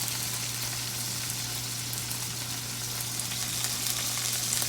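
Salmon fries in a pan with a steady, dense sizzle and crackle, an even hiss continuing without pause under a faint low hum, and nobody speaking.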